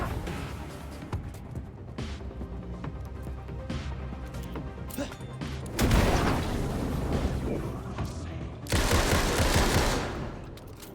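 Grenade blasts in the video game Alan Wake 2 erupt as two loud broadband bursts, the second a sustained roar, over a busy backdrop of rapid gunfire-like crackle and bangs.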